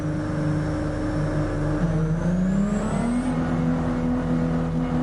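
A Ferrari race car engine in a racing video game drones steadily, its pitch climbing midway as it revs up and holds at a higher tone, loud and continuous with no talking.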